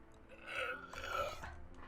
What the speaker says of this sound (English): I didn't mean to burp like that in the middle of that sentence